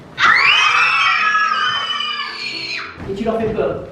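Children at a theatre rehearsal scream together in one loud, sustained, high-pitched shriek lasting a few seconds, then break off into a jumble of excited voices.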